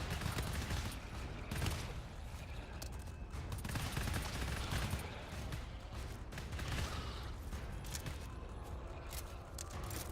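Dense, constant gunfire in the video game GTFO, overlapping rapid shots and bursts forming a loud, unbroken barrage with scraping mechanical clatter beneath.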